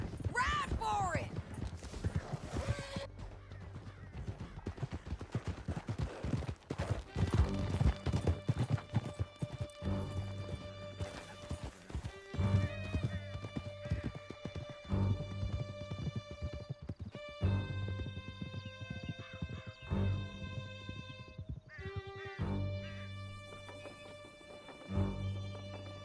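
In Red Dead Redemption 2, horses gallop with steady, close clip-clop hoofbeats that run throughout, joined by occasional whinnies and mechanical clinks.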